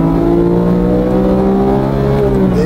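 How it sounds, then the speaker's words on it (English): A Porsche race car's engine drones loud and steady through a hairpin, holding a strong harmonic tone that sags and lifts slightly around a gearshift into second, with no talk. "coming into the hairpin now, into second gear"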